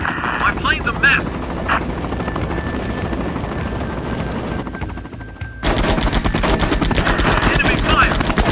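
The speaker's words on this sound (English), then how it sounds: "Enemy fire." Enemy gunfire in the air combat game Air Conflicts, rapid machine-gun bursts over a continuous helicopter and aircraft engine drone. The firing grows louder and denser partway through.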